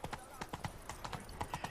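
Horse hooves clip-clop in a steady, even rhythm in The Witcher 3, the horse moving at a walk through a city, with a voice talking over the hoofbeats.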